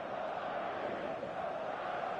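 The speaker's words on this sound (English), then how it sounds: "This crowd doesn't do ordinary, and we should be in for something very special." A stadium crowd in the eFootball video game, a steady, dense murmur of massed voices and chanting that holds at an even level throughout, distant-sounding and continuous.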